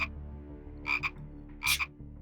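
A small green frog croaks in the video game Corpse Party: Blood Drive, two pairs of short, sharp croaks over a low, steady music bed.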